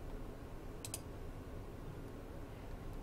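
A computer mouse clicks twice in quick succession during Minecraft play, crisp and close, over a steady background hiss.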